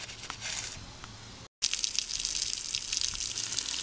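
Water runs steadily from a tap or hose while a bicycle is being washed, a bright continuous hiss and splash close by, broken by one brief cut before resuming.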